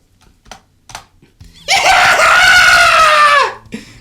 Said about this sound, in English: LOVELIA shrieks while covering her chest, then comes running at me